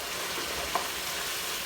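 Bhindi (okra) frying in hot oil gives a steady, dense sizzle that holds at an even level throughout, with no talk over it and only one tiny click near the middle.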